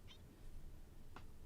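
A pet cat gives two short, quiet meows about a second apart indoors, faint over a soft background hiss.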